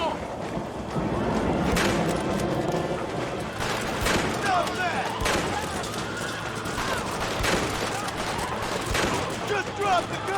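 In a Red Dead Redemption ambush, a chaotic fusillade of gunshots cracks out repeatedly at varying distances, with shouting voices mixed in among the firing.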